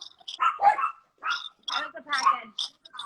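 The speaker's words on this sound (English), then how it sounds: "The guard dogs?" Guard dogs bark at someone at the door during a home livestream, with several bursts of barking and yips that rise and fall close to the microphone, heard with no talk.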